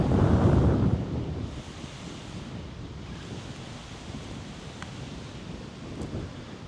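Strong wind buffets an outdoor microphone, with a loud rumbling gust at the start easing into a steady roar and occasional rustles, no voices.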